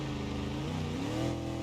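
A car engine in BeamNG.drive held at full throttle on a dirt track lap, overheating with a damaged radiator; a loud, continuous close-up roar whose pitch climbs steadily as it revs, with no voices over it.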